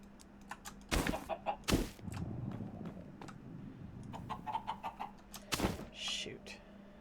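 A chicken in Minecraft gives a few short, quiet clucks mixed with sharp keyboard and mouse clicks, all soft and close.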